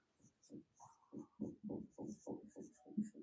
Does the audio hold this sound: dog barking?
no